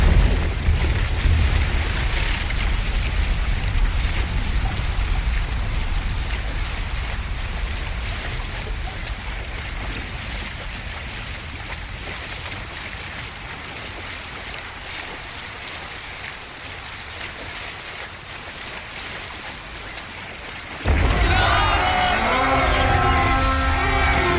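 Viking longship sailing on water in Assassin's Creed Valhalla, a steady rushing wash of waves and spray, with a brief burst of louder mixed sound near the end.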